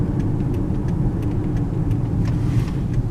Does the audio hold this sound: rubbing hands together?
no